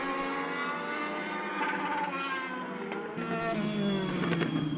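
The number 48 race car at Charlotte Motor Speedway, its engine a loud, sustained high-pitched drone that shifts pitch as it passes, with other cars roaring nearby and no talking over it.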